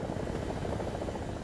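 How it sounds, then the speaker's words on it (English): Helicopter rotor and engine drone from the War Thunder combat game, a steady, continuous low throbbing thrum that holds at an even, fairly loud level throughout. "we actually have a helicopter here"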